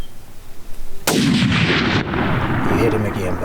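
A single loud rifle shot on a hunt outdoors, a sharp crack followed by a long rolling echo, with faint background noise and no talk.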